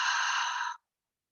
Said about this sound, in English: And exhale through the mouth.